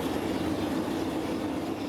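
Steady, loud engine drone of a military transport airplane, a broad continuous roar with no change in pitch and no talking.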